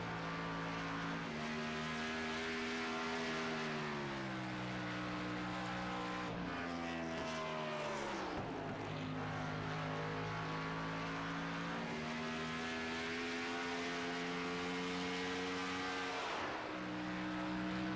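Race car engine in an Elite Racing League racing video game at Rockingham, a steady droning whine with harmonic tones that rise and fall as the car shifts and laps the back stretch, loud and continuous with no talk.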